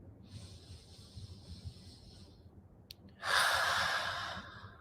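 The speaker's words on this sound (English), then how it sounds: "Let's take a breath" A woman draws a deep breath: a sudden loud, airy rush after near-quiet, which then tapers slowly over a second and a half.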